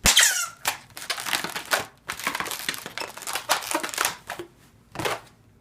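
Latex balloon squeaking and rubbing while an owl balloon bracelet is twisted and the extra is popped off, a close run of sharp squeaks and stretchy creaks in uneven bursts.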